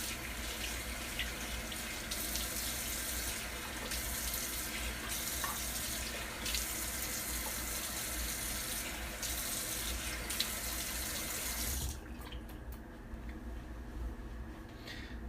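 Steady hiss of water running from a tap as a man wets his face, continuous and close, cutting off abruptly near the end and leaving a quieter background.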